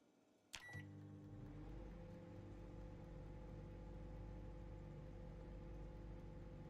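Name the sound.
microwave heating food in video game Project Zomboid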